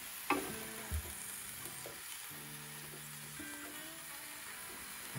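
Filet mignon and pork chops searing on a Ninja Foodi Grill, a steady broadband sizzle throughout with a couple of soft clunks early on, close and constant.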